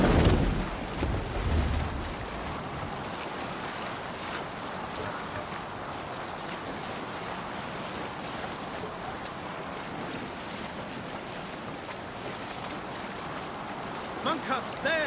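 A sailing ship crossing the ocean in Assassin's Creed Valhalla, with steady broadband wash of waves and wind rushing over the hull, loud and continuous throughout, with a few faint voices mixed into the roar.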